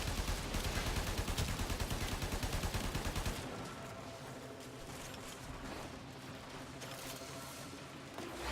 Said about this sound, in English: just having a straightforward gun that just shoots the bang bangs is nice